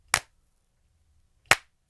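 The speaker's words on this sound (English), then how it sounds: "Record that so that we have one file of claps" Two sharp, dry hand claps from a percussion loop sound about a second and a half apart, crisp and close against near silence.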